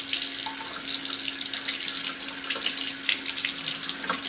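A tap runs steadily into a sink while a makeup brush is rinsed, a continuous close hiss of flowing water with no pauses.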